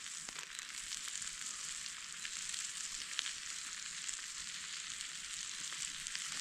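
Fiddleheads and wild leek frying in butter in a pan, a steady bright crackling sizzle that stays even and close for several seconds with no talking.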